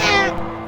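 A cat gives one short, close, clear meow that fades quickly into quiet.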